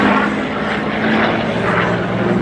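A propeller aircraft at the Flying Legends air show at Duxford runs with a loud, steady engine drone that fills the air continuously, with no talking over it.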